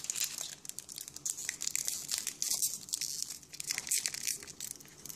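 A Pokémon EX Ruby & Sapphire booster pack wrapper is torn open up close: a run of crinkling, crackling plastic foil tears and rustles lasting several seconds, loud and continuous with brief pauses.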